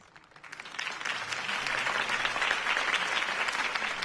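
A crowd in a video game applauds Harvey Dent's campaign speech, clapping that swells within the first second and then holds as a steady, dense ovation.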